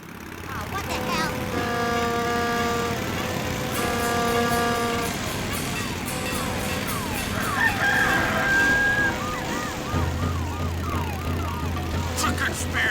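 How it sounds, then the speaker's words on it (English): Obnoxious honking horns and clucking live chickens from a South Park cartoon episode, busy and loud, with a steady low drone joining in late and voices mixed throughout. "Obnoxious sounds ranging from horns to live chickens"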